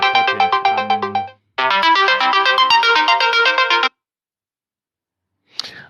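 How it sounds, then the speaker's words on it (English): A mobile phone ringtone plays loud and close, a bright melodic electronic tune in two bursts separated by a short gap, then silence and a brief faint noise at the end. "my phone was ringing"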